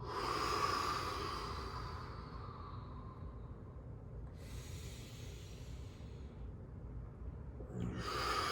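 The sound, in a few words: deep breath out during yoga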